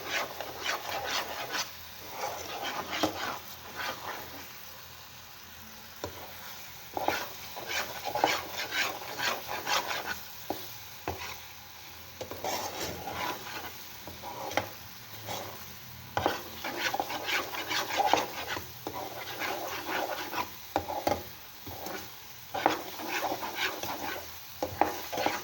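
A green mixture is stirred and roasted in ghee in a pan, with a steady soft sizzle under repeated scraping strokes of a spoon at close range, no voices.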